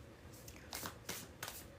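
Tarot cards shuffled by hand in a deck, with quiet riffling bursts at a steady rhythm, close and soft, with no talk.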